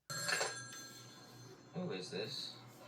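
A telephone bell rings in a movie scene, with bursts of ringing separated by a pause and background noise throughout.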